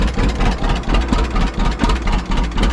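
A 1935 John Deere A tractor engine idles up close, a loud, steady low chugging with an even, pulsing rhythm and no voices.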